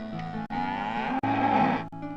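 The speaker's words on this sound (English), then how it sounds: "The milk comes from cows that live on dairy farms." Dairy cows on a farm moo in long, loud, close lowing calls, one after another with brief gaps between them.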